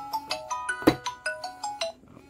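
A smartwatch places a Bluetooth phone call, sounding a repeating electronic ringing tone of about ten quick, evenly spaced pips, moderately faint and clear of speech.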